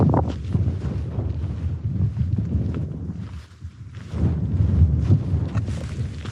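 Wind gusts buffet the microphone on a dark, fog-covered Yorkshire peak summit, a continuous low rumbling roar that dips briefly before swelling again.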